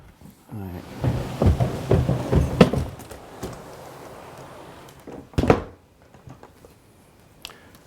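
A movable wall panel in a tiny New York apartment slides shut, a rumbling roll followed by a thump, then a second sharp knock as it settles, with quiet room noise afterward.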